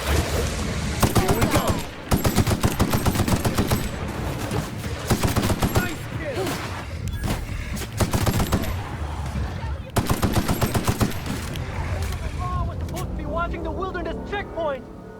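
Rapid bursts of automatic and single-shot gunfire ring out in The Outer Worlds during a firefight, loud and repeated in clusters with short pauses, ending with quieter game sounds.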